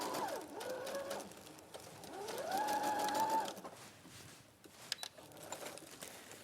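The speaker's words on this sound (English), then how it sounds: "we'll just get our shoulder seams sewn too" A domestic sewing machine set to a long stitch length runs in short bursts along shoulder seams, its whirring rising and falling with brief pauses and a few light clicks between runs.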